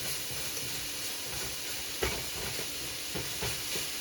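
Sausage fries in a pan with a steady, quiet sizzle and hiss, broken by a few soft pops and utensil clicks, with no talking.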